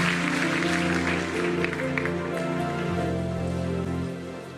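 A church congregation claps together in a steady, dense wash of applause under sustained organ or keyboard chords, tapering slightly near the end.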